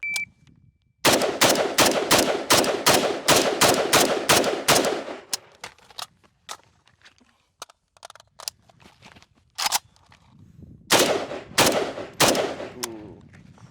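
Rapid strings of loud AK rifle shots from a timed shooting drill, fired in fast bursts, then scattered single reports after a pause, and a final quick volley near the end.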